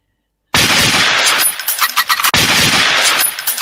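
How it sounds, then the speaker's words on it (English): Loud, close gunfire sound effect, a sustained harsh burst that cuts in abruptly after silence, dips briefly, then blasts again, with no voices over it. "Gunshot."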